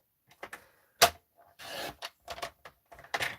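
A Stampin' Up! paper trimmer slices a tiny sliver of paper in a few short, dry scraping and rasping strokes, close and fairly quiet, with a sharp click near the start and no talking.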